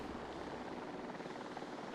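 A steady, faint helicopter rotor drone in a dinosaur survival video game, continuous and distant-sounding with no break or change.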